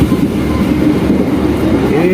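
A train runs steadily as it nears Cepu station in Indonesia, a continuous close rumble of wheels and carriages with faint clatter and no clear breaks, loud throughout.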